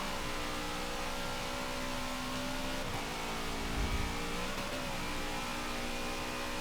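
A race car engine in Forza 7 drones steadily at high revs, a continuous whining hum that holds its pitch with slight shifts while the car runs along a track, with no talking.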